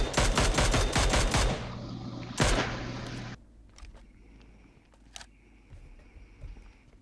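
Gunfire in the game PUBG Mobile: a loud rapid burst of automatic fire, a short pause and a second burst, then quieter scattered single shots and game sounds.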